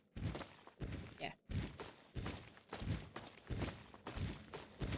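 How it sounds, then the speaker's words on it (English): Heavy, stompy footsteps in the video game Fallout 3 thud in a steady rhythm of about two per second, loud and close against a faint ambient background, with no voices. "I hear stompy footsteps."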